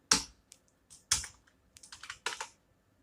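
Separate, crisp computer keyboard key presses while entering data into accounting software, a few single taps followed by a quicker cluster, close-up in an otherwise quiet room.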